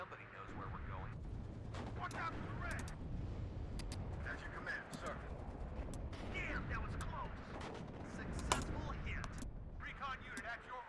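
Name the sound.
artillery fire in video game WARNO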